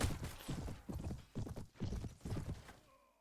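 Hooves clip-clop in a steady galloping rhythm from a horse in the medieval battle game Prophesy of Pendor during a castle siege, close and fairly loud, fading out at the end.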